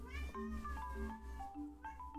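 A house cat meows in a drawn-out, wavering yowl that rises and falls, close and fairly clear, with a couple of pitch breaks as it trails off.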